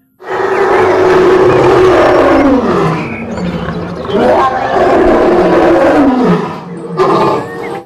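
Lion roar sound effect from a toy lion, loud and continuous for several seconds with deep growling surges and a final swell before cutting off.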